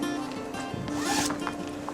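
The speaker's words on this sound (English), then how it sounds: "I brought a zip up." A zip-up sweater's zipper is drawn in one quick, raspy pull, close and clear over a steady low background hum.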